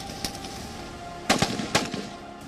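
Commandos firing at a smart target system on a police firing range: a few sharp gunshot cracks stand out over steady background hiss, with a pair of close reports in the middle and another shortly after.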